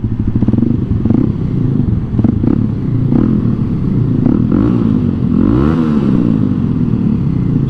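A Kawasaki KLX300SM single-cylinder motorcycle rides through a tunnel, its engine loud and close, echoing off the walls with a throbbing exhaust that rises in pitch as the rider revs and accelerates.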